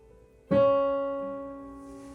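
A single D-flat note sounds once, a clear sustained tone with an abrupt onset that fades slowly over about a second and a half, alone with no voice.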